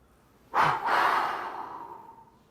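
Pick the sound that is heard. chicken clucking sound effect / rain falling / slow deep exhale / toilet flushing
slow deep exhale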